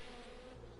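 Bees buzz around a queen bee in the video game Wytchwood, a short, steady, low droning hum that fills the clip with no pauses.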